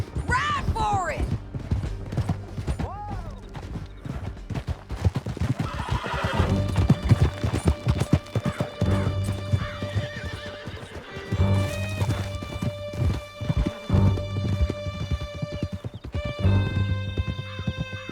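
Horses gallop with steady clip-clop hoofbeats and loud whinnies during a canyon escape in Red Dead Redemption 2, with background music and mechanical noise layered over the running hooves.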